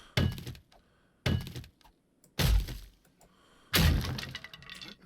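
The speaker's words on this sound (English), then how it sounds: "so we'll cut our way in here" Four heavy thunks with cracking debris break through a wall in the 7 Days To Die video game, each impact spaced about a second apart, loud and close, with crumbling tails after each hit.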